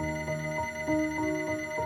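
A telephone rings in an animated story, a repeating electronic ring with steady bursts about every third of a second, clear and moderately loud with no talking.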